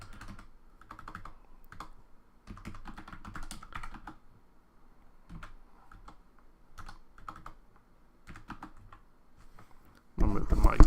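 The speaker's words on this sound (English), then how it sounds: "bear with me while I type" Computer keyboard typing in irregular bursts of quick clicks with short pauses, fairly close, ending in a louder rustle as a microphone is moved.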